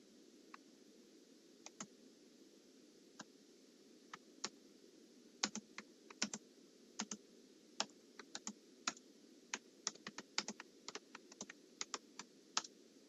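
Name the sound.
typing on computer keyboard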